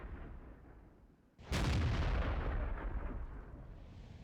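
A Lorraine 155 50 self-propelled artillery gun fires a shell in World of Tanks: after a quiet lull, one sudden loud, close blast with a long rumbling tail.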